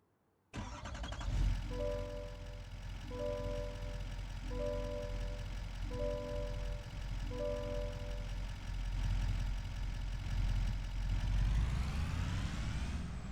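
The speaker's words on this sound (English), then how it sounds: "Now we gotta go warm up our tractor again" A tractor engine in a farming video game cranks over and fires up, then settles into a loud, steady idle with a repeating pulsing tone for several seconds, the rumble rising slightly at the end.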